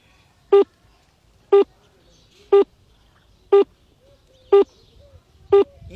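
A mobile phone calls another phone buried in cow dung: six evenly spaced electronic ringback tones about one second apart, clear and close against a quiet background.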